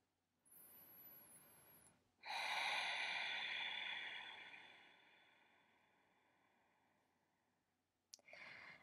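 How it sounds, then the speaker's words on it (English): One long, deep breath during a yoga session: a short inhale, then a loud, drawn-out exhale that fades slowly, heard close and alone. "deepening our breath"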